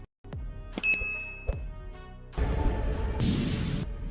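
A bright notification bell dings twice with quick ringing tails, then a burst of noisy whooshing sound-effect texture follows, loud and alone with no talking.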